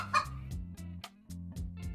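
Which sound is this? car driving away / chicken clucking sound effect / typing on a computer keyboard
chicken clucking sound effect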